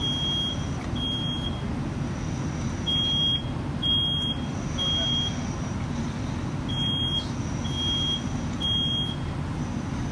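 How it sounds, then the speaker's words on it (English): A smoke alarm sounding, its shrill high beeps pulsing in short repeated bursts over a constant loud rushing background noise. "we've already had the smoke alarm activating"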